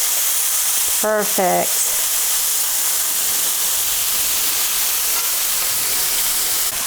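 A cod fillet, blackened and just flipped, sizzles in a hot pan as a steady, loud, continuous hiss, with a brief spoken word near the start.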